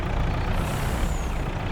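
Hissing release of a truck's air brake in Farming Simulator 22 on the Frontier map, a steady, loud, close hiss over a low engine rumble, with no talking.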